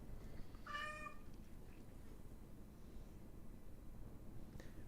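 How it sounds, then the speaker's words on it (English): A pet cat gives one short, faint meow early on against a soft background hiss, with no voices present. "they're very odd animals, cats"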